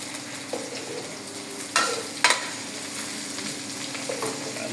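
Boiled potatoes fry in a pan for aloo dum, giving a steady close sizzle with a couple of sharp clinks and scrapes as they are stirred.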